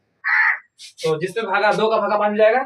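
A crow gives one harsh, nasal caw close by outdoors, then a voice starts talking right after it.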